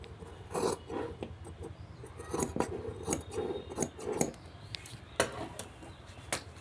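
Scissors snip through petticoat fabric while a garment is being shaped and cut, giving a series of crisp, close cuts with short pauses between strokes and light handling noise, with no talk.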